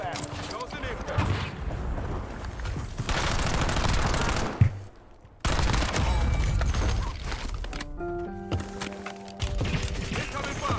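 Gunfire in the battle royale shooter Warzone, bursts of rapid automatic shots with booms in a busy combat mix, a brief quiet gap midway and game voice callouts.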